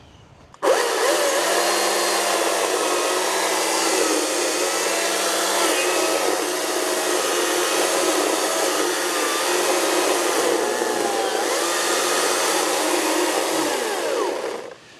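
Chainsaw with a dull, poorly cutting chain running steadily for about fourteen seconds, a loud continuous buzzing whine close by with slight dips in pitch, starting abruptly and with no talking over it.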